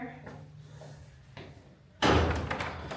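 Door in a Paris apartment opened and shut, a couple of soft thumps and a creak followed by a louder, rattling bang, with people talking nearby.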